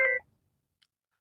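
A single short telephone tone rings out clearly, then cuts off, leaving near silence broken by one faint tick.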